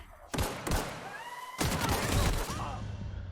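Bursts of gunfire in the sci-fi shooter The Outer Worlds, several loud sharp shots in quick succession with ringing whine-like tones between them, followed by sustained noisy rumble.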